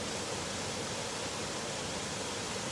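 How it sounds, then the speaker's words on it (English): A waterfall roars with a dense, steady broadband rush that stays unbroken and even throughout, with no voices or other sounds rising above it. "Love seeing this waterfall first thing in the morning."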